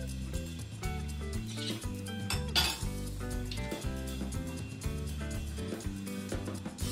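Roasted flaxseed is tipped from a pan into a vessel, giving a busy, scratchy run of small metallic clinks and rattles that goes on for several seconds without talk.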